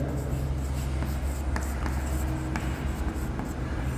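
Marker scratching on a board during a maths lesson on parabolas, with short strokes and taps over a constant low room hum, and no voice while it writes.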